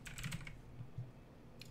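Quick clusters of keystrokes clatter on a computer keyboard, a short burst at the start, a couple of isolated taps, then another brief flurry at the end, all fairly quiet and close.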